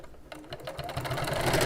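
A domestic sewing machine stitching slowly over a thick seam, its motor held back by a snagged foot pedal, a low steady whirring hum that builds gradually in loudness, close and continuous with no voices.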